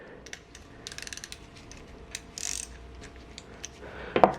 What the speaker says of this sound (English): we're going to loosen the bleeding screw